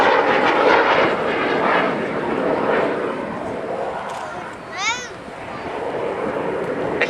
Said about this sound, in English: the only Hawker Seahawk left airworthy in the world